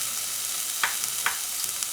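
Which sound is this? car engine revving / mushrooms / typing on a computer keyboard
mushrooms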